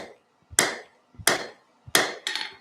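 A hammer strikes hot steel during forging, four sharp ringing blows spaced about two-thirds of a second apart, each preceded by a soft tap, the last two close together, with no talk.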